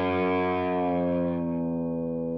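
A distorted electric guitar sounds its open low E string, bent sharp by pressing hard behind the nut, ringing as a loud, harmonically rich sustained note that slowly decays, with no talk over it.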